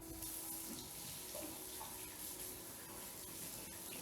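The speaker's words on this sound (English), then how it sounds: "I'm going to wash this off my fingies" Water from a tap runs steadily and softly while fingers are washed at a sink, a continuous low hiss with no talking.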